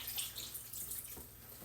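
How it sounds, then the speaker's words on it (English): Water runs and splashes steadily into a crock pot holding lean ground beef, a soft, close pouring sound for under two seconds. "I'm going to add some water"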